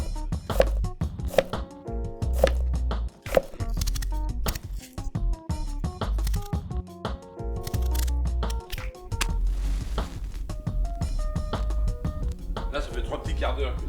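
Knife chopping onions coarsely on a board for bacon-and-potato cooking, a rapid run of sharp cutting taps with brief pauses, close and fairly loud, with music underneath throughout.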